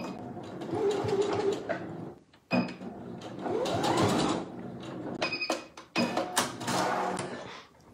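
A sewing machine stitches baby slippers in quick mechanical bursts, running steadily, pausing briefly, then starting again at close range.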